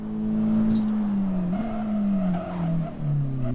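A Honda car slides under braking on a race track, its engine note droning steadily and dipping in pitch as it slows, with a brief tire scrub partway through, close and fairly loud with no talk.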